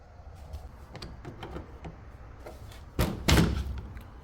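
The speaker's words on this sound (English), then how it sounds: "Now we can open this cover" The cover of an LG top-load washing machine, laid down on its side, is worked open with some light handling noises and then two loud, close thumps as the panel comes free.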